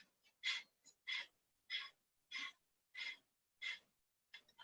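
Rhythmic bellows-style breathing in a breathing exercise: seven or so short forceful nasal pumps at an even pace, close and clear, each a sharp airy burst separated by near silence.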